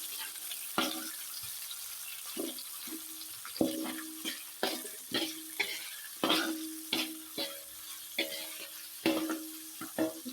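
Chili slices, tomato and lime leaves stir-fried in a pan, with repeated scraping and stirring strokes over a light, steady sizzle. No one talks.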